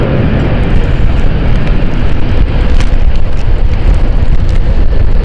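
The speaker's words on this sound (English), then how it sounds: "Let's see if the reverse thrusts are deployed." A jet airliner landing at London City airport roars loudly and continuously as reverse thrust deploys, a dense, rumbling, steady wash of engine noise heard close.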